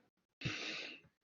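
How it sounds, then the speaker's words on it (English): A single deep breath drawn in through the nose or mouth, close and fairly loud, a steady airy rush lasting about half a second, with no one talking. "let's take in a deep breath"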